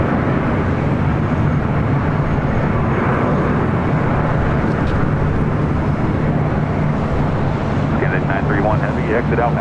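A fixed-wing airplane touches down on runway 24 right at LAX, with a loud, sustained roar of engine and rushing air throughout. A few faint voices run underneath.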